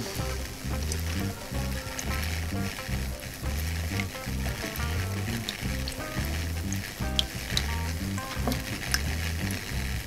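An ultrasonic fogger makes water bubble and fizz in a rapid, pulsing rhythm with steady crackling, like a vigorous simmer, close and continuous.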